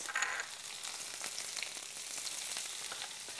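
Garlic, Italian parsley and seasonings sautéing in a pan, giving a steady, close sizzle and crackle with small pops scattered throughout and no talking.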